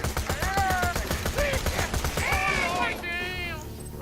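Rapid bursts of gunfire in the shooter game Borderlands The Pre-Sequel, loud repeated shots mixed with squealing enemy cries and game effects, with a voice talking over the top.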